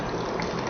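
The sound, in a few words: alkaline water being poured into a cup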